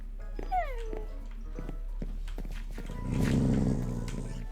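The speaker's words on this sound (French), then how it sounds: "j'ai entendu un chien énervé" Angry dog in Minecraft, a mix of whines and yelps followed by a louder rough growl building near the end, close up, with brief bursts and pauses between them.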